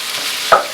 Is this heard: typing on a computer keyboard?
no